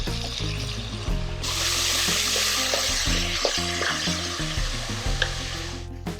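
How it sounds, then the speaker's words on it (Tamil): Soaked red lentils hit a hot pot for red lentil soup, giving a loud, continuous sizzle and stirring scrapes over background music, with no talking. "Now I'm going to add the soaked lentils."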